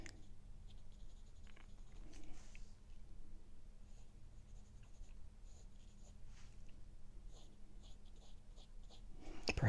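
Pencil lines being sketched on paper during a drawing exercise, a soft, close scratching that comes in short strokes and pauses against a quiet room, with no talking.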